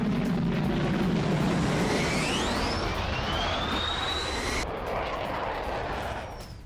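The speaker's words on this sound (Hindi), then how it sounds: "यूक्रेन के 2 MiG-29 फाइटर जेट्स की उड़ान की तस्वीरें आप देखिए" Two Ukrainian MiG-29 fighter jets fly past with a loud, sustained roaring rush, the pitch sweeping as they pass overhead before the noise slowly eases off, with no talking.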